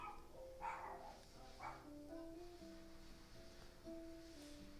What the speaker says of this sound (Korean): 밖에 강아지 트레이닝 시키는 것 같아요.